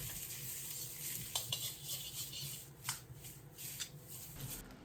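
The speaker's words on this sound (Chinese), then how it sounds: "继续快速翻炒均匀，放入矿水的配料，再次翻炒扒拉半分钟左右" Pineapple egg fried rice with a pinch of salt and added seasonings tossed and stir-fried in a wok, the spatula giving soft, steady scraping and rustling with a few light clinks, fairly quiet, with no talking.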